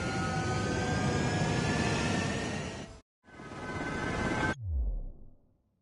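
Jet fighters taking off in the video game Ace Combat 7: a loud, steady broadband jet roar runs for three seconds, cuts briefly, resumes, then ends in a low fading rumble.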